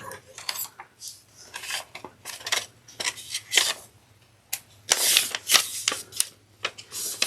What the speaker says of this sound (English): So just cut out the notches.